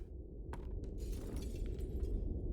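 Glass breaking in the Batman: The Telltale Series game, a sudden crash followed by scattered bright shards tinkling over a low rumbling background, fairly faint.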